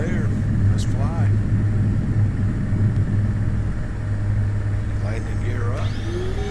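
Simulated light aircraft engine roaring steadily through a takeoff roll in Flight Simulator X, a loud continuous drone with a strong low hum, brief tonal chirps and warning-like blips layered over it.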